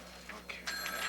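An office telephone rings in short electronic trills that grow louder near the end, set against a faint steady hum with no talking.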